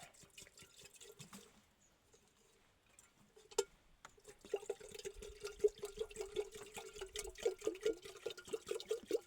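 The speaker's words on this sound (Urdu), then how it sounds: "یہ میں پانی ڈالوں گا۔" Water poured from a bottle into a frost-covered container in the cold, starting faint and sparse, then a steady burbling, gurgling trickle with rhythmic glugs, fairly close.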